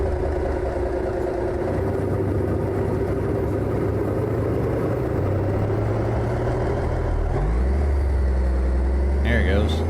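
A heavy truck engine in American Truck Simulator drones steadily, then drops pitch as it downshifts near the end, with a voice talking over the engine.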